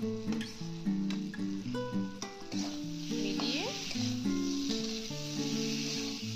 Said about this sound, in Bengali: কিছুক্ষণ ভাজবো